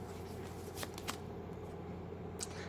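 Tarot cards are shuffled by hand in soft, papery riffling with a couple of sharper flicks against steady background hiss, close and quiet.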